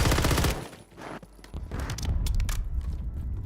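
Warzone video game gunfire: loud bursts of rapid automatic shots with sharp cracks and a few single reports, dense and close throughout, with no voices.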